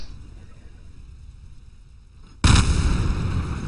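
A rocket crashes and explodes in Kerbal Space Program, its launch towers striking the engines: a low background hum breaks into a sudden loud, broadband blast that keeps roaring and crackling to the end.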